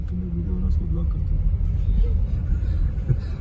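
A car engine rumbles low and steady while driving through Jagatpur, Banka, Bhagalpur during Durga Puja, a continuous road drone under people chatting inside the vehicle.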